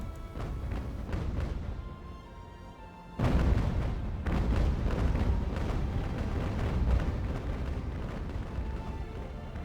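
Ship cannons fire in the age-of-sail naval battle game Ultimate Admiral: Age of Sail. Deep booming volleys rumble, with a heavy surge at about three seconds followed by a sustained roll of blasts.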